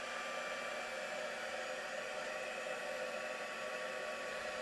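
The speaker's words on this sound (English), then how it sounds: "So I'm going to just quickly just dry that a little bit with my heat tool." A crafting heat tool blows a steady, even whirring hiss of hot air over a painted card, constant and close without pause.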